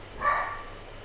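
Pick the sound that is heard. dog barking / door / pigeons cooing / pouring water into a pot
dog barking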